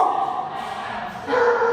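Puppies at a dog grooming spa give high, close yips and whining barks in quick overlapping bursts, loud and continuous over a short stretch.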